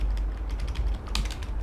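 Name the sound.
pressing arrow keys on a computer keyboard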